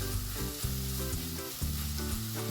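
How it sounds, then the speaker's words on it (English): Finely cut onions and whole spices fry in oil for Goan clam pulao, a loud continuous close sizzle with bubbling crackle and stirring, with no voices. "Once the spices start spluttering and give a nice aroma, add the finely cut onions."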